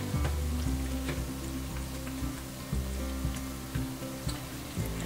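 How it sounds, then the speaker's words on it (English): Steady, crackling sizzle of Southern fried chicken frying in hot grease, loud and close, with continuous popping and spitting throughout. "now our chicken's frying good and our grease is good and hot"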